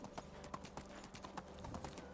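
Donkey hooves clip-clop at a steady walking rhythm in the medieval village game Medieval Dynasty, clear individual strikes over a faint ambient background.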